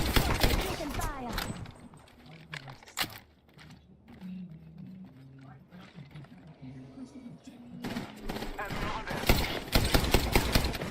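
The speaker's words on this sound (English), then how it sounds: "Taking fire." Video game gunfire crackles in bursts of sharp, rapid shots, loud at the start and again near the end, with a quieter stretch in between where a voice talks over the fire.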